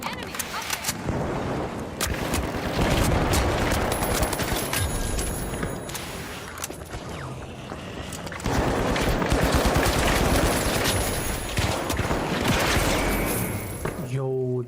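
Rapid bursts of gunfire in a shooter video game with a sniper on a rooftop, dense crackling volleys that continue almost without pause, loud, with players talking over the shooting.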